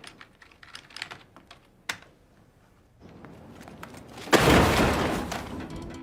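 Rapid clicking of a computer keyboard as someone types, a quick burst of keystrokes that pauses and then gives way to a loud rushing noise swelling up toward the end.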